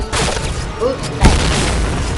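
A sharp grenade explosion bursts out mid-clip over continuous game sounds and a talking voice, with a brief low rumble trailing after the blast.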